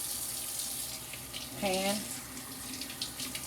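Cold tap water runs steadily while fish is rinsed, a soft continuous splash under a brief spoken word.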